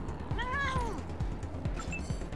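Cat meowing in the video game Wasteland 3, one clear rising and falling meow near the start, then faint softer mews over a low game background.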